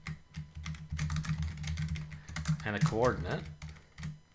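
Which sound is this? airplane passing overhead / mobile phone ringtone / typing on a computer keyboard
typing on a computer keyboard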